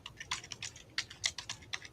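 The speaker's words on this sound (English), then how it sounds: "Zach, you got a mega loud keyboard." Quick bursts of typing clack on a loud big-button computer keyboard, a dozen or so sharp key strikes in an uneven rhythm, faint and alone.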